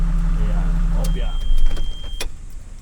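A car's red-framed power window is raised, a steady electric motor whir running for about a second and ending with a faint thump, with vehicle engine hum beneath and a person speaking nearby.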